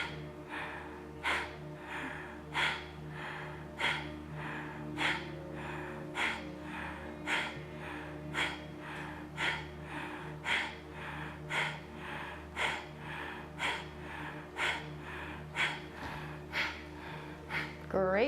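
Forceful rhythmic breaths of fire in a live Kundalini yoga class: sharp, regular exhales snapped in through the belly, roughly one per second, close and steady throughout.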